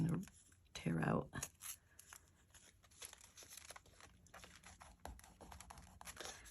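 Scraps of paper being torn by hand for an art journal collage, giving short ragged ripping and crinkling bursts close up, mixed with soft handling noises while someone talks quietly.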